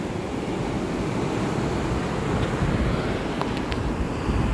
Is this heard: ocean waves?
yes